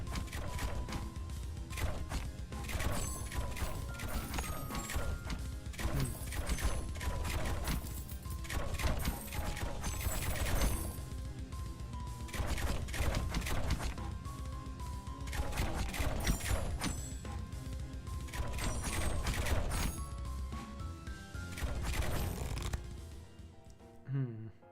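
Ballista towers in the tower-defence game Rogue Tower fire bolts in a steady stream of sharp mechanical clacks and thuds, layered over busy game music and effects for the whole stretch.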